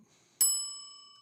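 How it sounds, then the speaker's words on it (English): A single bright bell strike used as a sound effect, one sharp ding that rings out clearly with a long fading metallic tone, heard alone without talk. "I'm going to hit you with a bell just for that"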